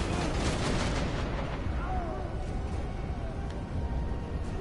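Turret fire in Borderlands 2 during the Torgue DLC lands as a burst of booming shots up front, then fades into rumbling blasts and background game noise.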